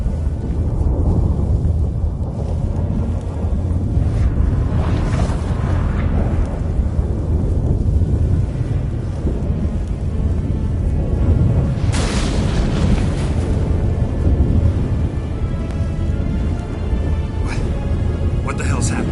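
Thunderstorm in The Witcher 3 video game, a continuous deep rumble and roar with a loud thunder crash in the middle, heard under dialogue from several characters.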